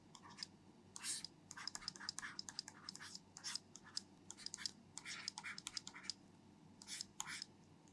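A pen scratches across paper while a math solution is written out, giving close, quiet bursts of scraping strokes in an uneven rhythm with short pauses.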